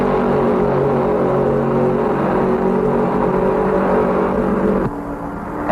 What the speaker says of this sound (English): Petty's still running full throttle